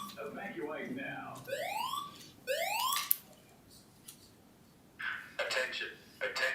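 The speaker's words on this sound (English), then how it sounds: "This completes our test of the fire alarm system." Building fire alarm system test, with rising electronic sweep tones repeating in quick succession, followed by clipped announcement-like bursts, heard at moderate distance in a quiet room.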